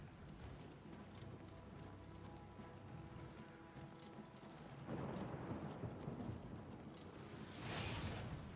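Faint lightning spell cast by an enemy in the game Oblivion: two rushing, crackling bursts like distant thunder over a low rumbling, rain-like hiss.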